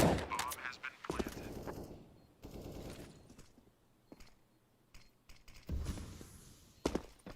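AK-47 rifle gunfire in a Counter-Strike: Global Offensive match on the Inferno map, short sharp bursts and single shots spread across the clip, some close and loud, others fainter, mixed with game mechanism clicks and clatter.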